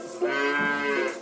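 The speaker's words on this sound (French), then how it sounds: "Là, ce sont les vaches du prince." A dairy cow gives a single close, loud moo, a sustained low-pitched tonal call lasting about a second.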